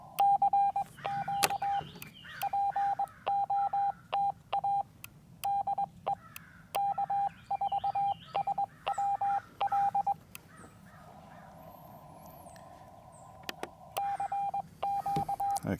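CW Morse code tones played from the message memory of a Xiegu X6200 radio: a steady pitched tone keyed in rhythmic dots and dashes, broken by sharp clicks, a brief pause with a different hum, and outdoor background noise.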